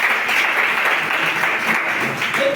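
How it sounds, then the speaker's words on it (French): A church congregation at a Saturday praise and healing gathering bursts into steady applause, a dense continuous wash of clapping that holds evenly throughout. "On doit acclamer."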